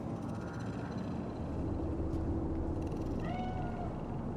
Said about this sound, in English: It's a cat like any other.